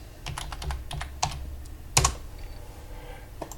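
Password being typed on a computer keyboard: a quick run of separate key clicks, some sharper and louder, with short pauses between, close up and with no voices.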